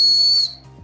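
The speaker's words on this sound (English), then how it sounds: "Tesla Cyber Whistle." A Tesla Cyber Whistle gives one loud, close, high-pitched blast that holds steadily for about half a second before cutting off abruptly.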